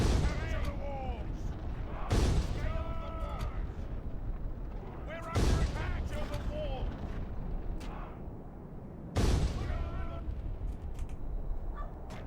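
Troops firing in a Third Age: Total War battle: four heavy, booming volleys land roughly every three seconds, each followed by ringing, whistling tails over a constant rumble of battle ambience.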